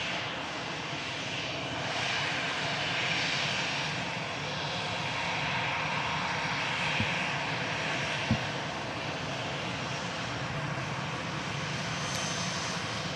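An EasyJet airliner arriving from Geneva at Manchester Airport, a steady broad jet roar heard at a distance with a couple of faint clicks, sustained throughout and with no voices.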